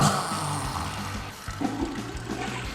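Toilet flush rushing and gurgling for a few seconds, a loud swirl of water that settles into trickling and dribbling as the bowl drains.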